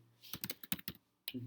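Quick bursts of keystrokes on a computer keyboard while entering shortcut keys, about eight crisp clicks in a short uneven run, close and fairly quiet, with a brief voice sound at the end.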